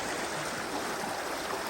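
Creek water rushes steadily past a bridge opening, a constant close broadband wash with no breaks or voices.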